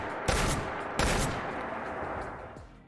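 Two loud, booming combat shotgun blasts fired from the hip in Fallout 4, a short gap between them, each followed by a long rumbling tail that fades slowly.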